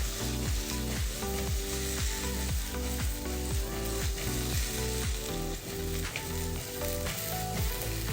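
Okra sizzles steadily in hot oil tempering while the pan is tossed by its two handles, and a rhythmic series of soft thuds and shifting rattles sounds over the continuous loud frying.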